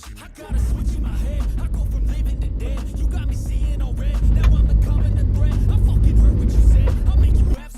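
A Tata Safari Storm 4x4 drives off-road on sand, its engine a loud, steady rumble close by that swells a little as it pushes on, with no talk over it.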